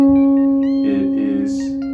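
A single guitar note plucked on the second string at the second fret rings out steadily and sustains for about two seconds, with faint voice-like sounds partway through.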